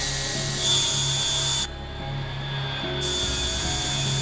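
A power drill bores into a plastic skull in short bursts, a steady mechanical whir under a low hum, its tone shifting partway through.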